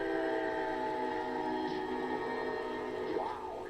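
A train near Chicago rolls along the tracks with a sustained, loud horn-like drone and steady rumble, no voices over it.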